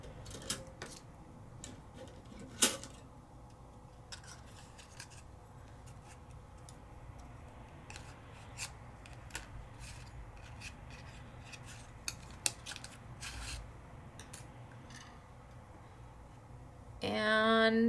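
Scissors snip paper ornaments in a sequence of small, irregular cuts and light rustles, a close, quiet crafting sound with a sharper sheet handling at the end.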